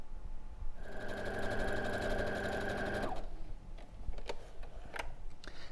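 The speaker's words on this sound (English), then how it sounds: "So I'm just sewing my last 2 seams" A sewing machine stitches the last seams of a quilt, a fast even mechanical whir running for about two seconds before it stops, followed by a few soft clicks and handling taps.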